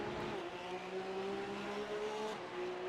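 Porsche Supercup race cars at speed during a round at Navarra, engines droning loud and steady with rising and falling pitch as the cars pass close together, no talk over it.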